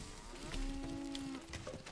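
A cow in the medieval village game Manor Lords gives one drawn-out, low moo, heard clearly over soft ambient game background.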